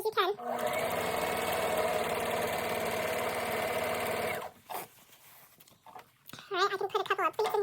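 A home sewing machine runs steadily for about four seconds, joining two patchwork fabric pieces for a patriotic skirt, with a back stitch at the end, followed by someone talking nearby.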